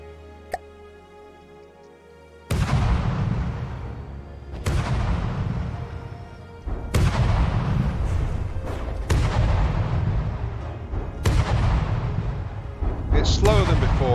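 Heavy 200mm cannon in the game From the Depths firing at a slow 28 rounds per minute, with six loud booming shots spaced a couple of seconds apart, each decaying into a rumbling tail.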